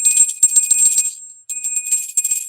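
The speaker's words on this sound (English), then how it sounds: "I don't know why I've not been able to ring the bell properly today" Small hand bell rung repeatedly with a bright, high jingling shimmer, in two bursts separated by a short gap, loud and close with no talking.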